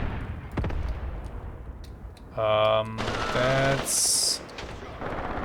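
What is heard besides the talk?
infantry gunfire in video game Graviteam Tactics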